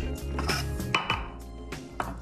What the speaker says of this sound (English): The garlic, again, a rough chop to begin.